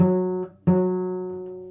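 A single sustained bowed string F sharp note rings steadily, briefly interrupted by a bow change, then continues evenly, close and clear.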